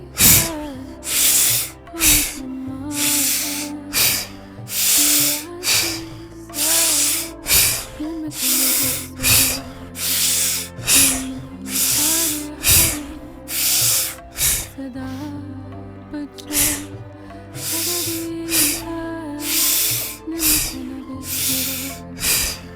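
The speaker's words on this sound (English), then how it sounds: "All you have to do is focus on that strong inhale and short exhale." Rhythmic Kundalini breathing practice: a long series of strong, forceful inhales each followed by a short exhale, loud, close and breathy, repeating at a steady pace with a brief pause partway through.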